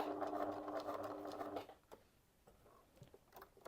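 A sewing machine stitches fabric in a short, fairly quiet rapid run that stops after about a second and a half, leaving faint clicks and handling noises.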